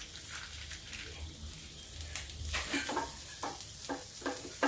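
Buttermilk gets stirred into water chestnut flour kadhi in a pan over low heat, with soft liquid swishing, light sizzling, and intermittent scraping strokes growing louder toward the end; no talking.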